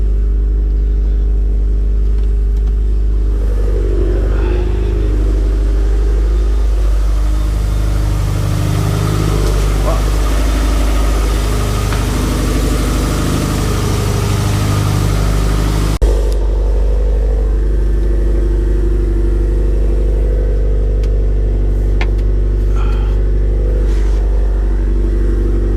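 A Subaru STI engine fitted with 2000 cc injectors idles after a cold start, a loud, steady low rumble with slight rev swells, continuous throughout and close up, with a voice speaking over it.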